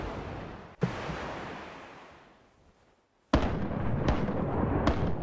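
Cannon shots fired at a ship in the pirate naval game Rise of Piracy: a sharp blast trails off into fading rumble, a gap of near silence, then a second loud boom with crackling follow-up bursts.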